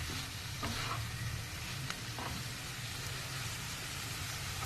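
Broccoli fry sizzles steadily in a hot pan while being gently stirred, the frying hiss constant with occasional soft scrapes of the spoon.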